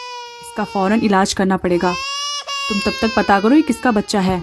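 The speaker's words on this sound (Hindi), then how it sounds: "बाहर कूड़ेदान में से किसी बच्चे की रोने की आवाजें आ रही हैं" A newborn baby wails in a cartoon, its high, quavering cries rising and falling underneath a voice speaking over it.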